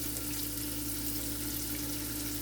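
Onions sizzle in a wide-bottomed pot alongside browning pork and beef for a ragù Bolognese, a steady, close frying hiss that runs unbroken under a low hum.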